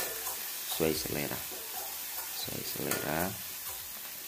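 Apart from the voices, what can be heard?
ground chili frying and sizzling in a pan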